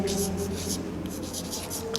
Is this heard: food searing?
no